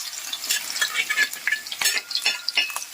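Green chilies frying in hot oil in a pan for an old-style Kerala beef curry, a bright crackling sizzle broken by repeated stirring scrapes and clinks, close and continuous.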